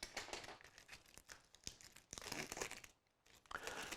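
Plastic packaging around a SanDisk Extreme PRO 256 GB memory card being cut open, with close crinkling and tearing in bursts, a brief pause, then more crackling.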